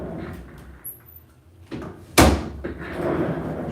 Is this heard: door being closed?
yes